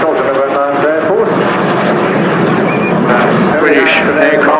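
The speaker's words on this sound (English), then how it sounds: "British aircraft, a light bomber, designed and built by the Bristol Airplane Company" A Bristol light bomber flying at the Torbay Airshow, its propeller engines droning and rumbling loudly and continuously while a commentator speaks over it.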